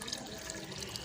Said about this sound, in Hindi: अब मैं इसके अंदर पानी डालूँगा